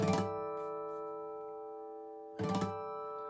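Guitar harmonics at the fifth fret, all strings sounded together, ring out in a bright bell-like chord that sustains and slowly fades, then a second strum of the same harmonics rings again near the end.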